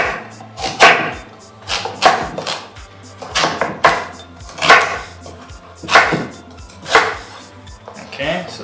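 A kitchen knife chops through pumpkin into cubes on a cutting board, a steady series of sharp, close thuds and knocks roughly once per second, with a low background hum.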